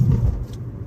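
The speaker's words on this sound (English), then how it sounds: "Popo just pulled that car over behind me" A car passing close behind on the road, its engine a brief low rumble that fades within a second, with no talking.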